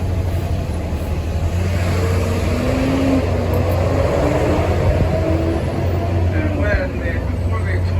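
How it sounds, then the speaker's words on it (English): Steady road traffic rumbles through Boston streets, a dense constant wash of car and bus engine noise with passing vehicles, heard from a trolley tour with a guide talking over it. "A lot of traffic."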